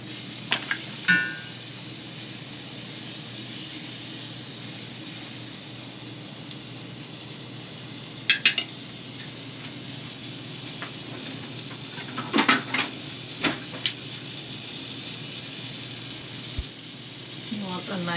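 Butter hitting a smoking-hot, heavy-bottomed cast iron pan before a steak sear, giving a steady close sizzle and fry hiss throughout with a few sharper pops and crackles scattered along the way.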